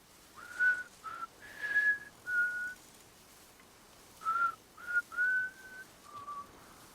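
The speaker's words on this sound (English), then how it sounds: "As he whistles the theme for Death Stranding" Cliff whistles the Death Stranding theme in a video game cutscene: two sustained melodic phrases of clear tones separated by a pause, soft over a low hissy background.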